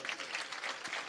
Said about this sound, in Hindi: ताली बजाओ इसके लिए